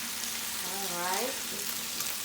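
Meat sizzles steadily in a hot pan for jambalaya, a broad constant hiss with a brief voice-like murmur in the middle and light stirring scrapes.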